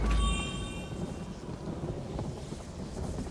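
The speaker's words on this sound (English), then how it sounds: "You get the lightning. Now you get the lightning." Thunder from a lightning spell cast by a mage in a fantasy video game, a loud crack with a ringing tone at the start, then a deep rumble rolling and fading over a few seconds.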